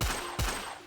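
Two sharp, punchy shots ring out from the Hunter's handgun in a modded Minecraft game, spaced close together, each with a low thump and a short decaying tail.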